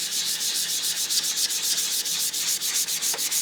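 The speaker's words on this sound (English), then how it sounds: "Another thing that I like to do is to sand the entire image lightly." Sandpaper lightly sanding a wooden board with a pattern traced on it, a steady run of quick, even back-and-forth rubbing strokes, close and fairly loud with no voices.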